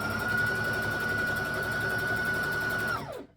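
A sewing machine stitches fabric near an elastic waistband on Christmas shorts, a loud steady whirring drone held for about three seconds before winding down and stopping.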